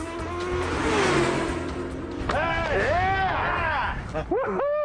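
Modern Formula 1 race car engine, high-revving to about 18,000 rpm, screaming through rising and falling revs in a loud run, with a voice speaking over it.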